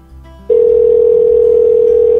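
A telephone dial tone, heard while calling someone, rings out as a loud, steady single-pitch hum that starts abruptly after a short quiet lead-in and holds unbroken to the end.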